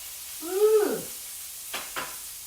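Veal and pork meatballs fry in a pan with a soft, steady sizzle under a brief tonal squeak and two faint scraping stirs, quiet and close.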